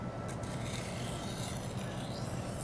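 A knife blade drawn across the medium-coarse grit of a sharpener gives a steady, soft rasping scrape that runs continuously and close, with no talk over it.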